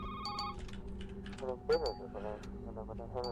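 A telephone rings in a video game in short electronic bursts, partly under a voice and other game sounds.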